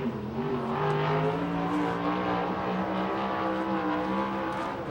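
A USAC sprint car engine roars at steady high revs around the Hanford, California track, a loud continuous droning buzz that holds through the whole stretch without pause.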